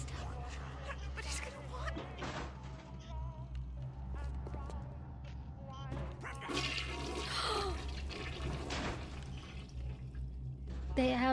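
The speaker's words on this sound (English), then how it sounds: "That is not the most impressive toilet flush physics I've seen" Toilet flushing in the video game Bioshock, a rushing, gurgling water sound with drips and pouring, heard under people talking.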